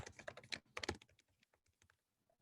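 Quick bursts of keystrokes on a computer keyboard, close and clicky, come in two fast flurries and then trail off into sparse single taps.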